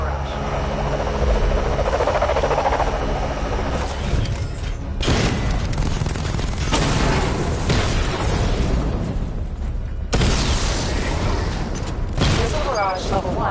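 Repeated heavy explosions and booming blasts as targets are destroyed in Batman: Arkham Knight, loud and dense with rumbling bursts and mechanical whirring, broken by sudden cuts between volleys.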